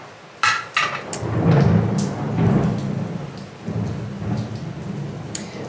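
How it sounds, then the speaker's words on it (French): Thunder rumbles through a huge thunderstorm with rain falling, deep low rolling peaks building and fading under sharp higher cracks, fairly loud and continuous across the whole stretch with no talking. "c'est un éclair. Il y a un immense orage."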